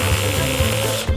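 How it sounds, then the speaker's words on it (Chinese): A power screwdriver drives screws to fasten caster wheels onto the bottom of a wooden cabinet box, giving a steady whirring hum with a slight pulsing and a brief pause near the end. "现在我要锁轮子在柜子的底部。"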